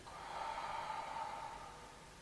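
A single slow, steady exhale through the mouth during a slow Pilates exercise, lasting about two seconds, airy and close, with no talking.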